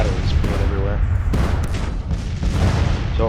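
Artillery batteries firing in the video game Grand Tactician: repeated booms and rumbling gunfire fill a dense, loud battle soundscape, with a voice talking over it throughout.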